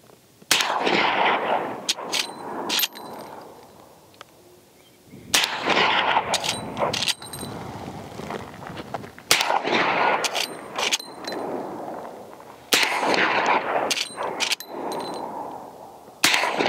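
Suppressed Henry .45-70 lever-action rifle fitted with a Bushwhacker 46 suppressor fires about four loud, sharp shots spaced a few seconds apart, each followed by quick metallic lever cycling clicks.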